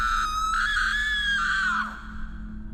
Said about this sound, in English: she screamed.